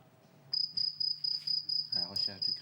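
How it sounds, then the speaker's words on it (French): A cricket chirps in steady, evenly spaced high trills, close and clear against a quiet background, with a faint voice briefly underneath near the end. "À la recherche du grillon. Ça fait un son."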